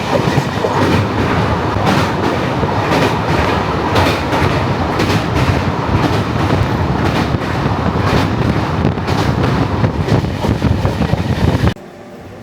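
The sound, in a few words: Vivek Express train running, crossing the Damodar river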